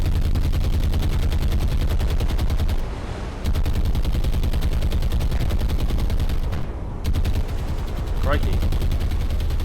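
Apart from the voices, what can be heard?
anti-aircraft gunfire at aircraft, War on the Sea video game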